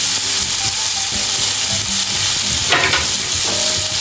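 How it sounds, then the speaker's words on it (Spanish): Garlic and chili peppers sizzle briskly in butter with a little olive oil, a constant bright crackle close up, broken by a few scraping stirs of a utensil through the pan. "Mezclamos y doramos bien los ajos."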